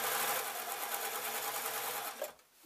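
A sewing machine with a hemming foot sews a couple of reverse stitches on a satin apron. The motor hums steadily and close up for most of the clip, then stops abruptly near the end.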